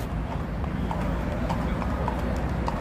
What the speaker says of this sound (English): There's the police horses patrolling Michigan Avenue here.